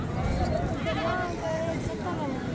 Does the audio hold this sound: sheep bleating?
yes